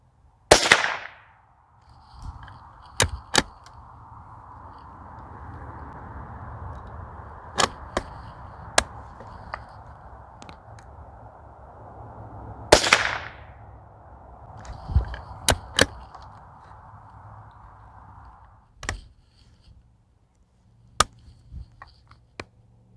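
A Winchester 121Y youth model rifle fires sharp single shots spaced several seconds apart, close and loud, with a steady background hum between reports.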